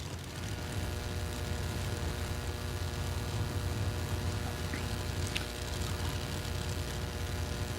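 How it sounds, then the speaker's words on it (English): A Pro Modified drag racing car with a ProCharger supercharger makes its run at a Texas drag strip, heard as a distant, steady engine roar and whine that holds through the clip without talk. "Sounds like a Pro Charger, if you ask me."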